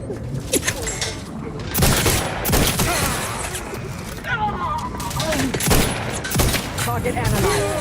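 Rapid bursts of gunfire ring out in the video game Outer Worlds 2, loud and repeated volleys of shots that fill the whole stretch, with game voices speaking now and then.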